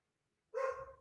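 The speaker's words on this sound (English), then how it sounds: "Now my sister's dog going crazy." A single sharp bark from a sister's dog, loud and close, bursting out after a moment of silence.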